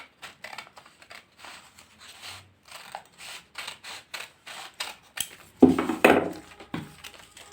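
Scissors snip steadily through fabric while a ban collar is shaped for stitching, a quick series of close, crisp cuts ending in a louder cluster of heavier snips.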